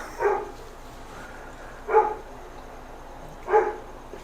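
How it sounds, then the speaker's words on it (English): A dog barks outdoors at a moderate distance, three single woofs spaced evenly about one and a half seconds apart over a low steady background hum. "If you hear that dog, shut up"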